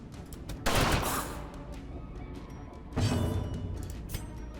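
Grape shot gunfire attack in the video game Darkest Dungeon: two sharp, heavy blasts a couple of seconds apart, each trailing off into a rumbling decay, loud and close with no talking.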